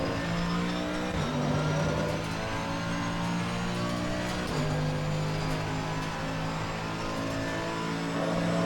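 An AMG Evo race car driving at Zandvoort in the video game Assetto Corsa Competizione: a steady, loud engine drone with two clear gear-shift drops in pitch and continuous close-up road noise.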